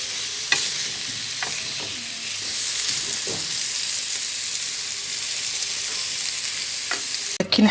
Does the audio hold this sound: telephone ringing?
no